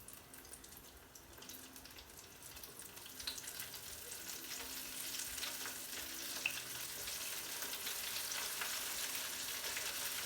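Battered shrimp frying in 180-degree oil, a steady close crackling sizzle that builds slightly in intensity and continues without pause, with faint clinks and no talking.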